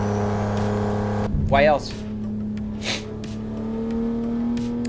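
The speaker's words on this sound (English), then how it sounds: "Why it's a Volvo interior with a BMW wheel? Because we're driving a BMW, man." A BMW driven in the BeamNG video game, with a steady engine hum through most of the clip as a person speaks over it.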